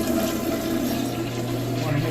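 A toilet flushing, a steady rushing swirl of water with a low pump-like hum, close and continuous throughout.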